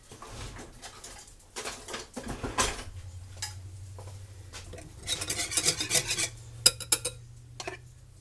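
A metal spoon stirs gravy in a pot while a cheap chicken patty dinner is made, giving faint, scattered clinks and scrapes over a low, steady kitchen hum, with a few louder taps near the end.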